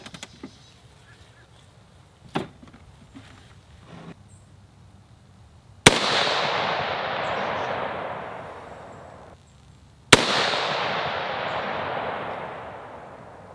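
Two loud, sharp rifle shots from a Diamondback DB10 AR10 chambered in 6.5 Creedmoor, several seconds apart, each with a long fading echo at an outdoor range, after a few faint handling clicks.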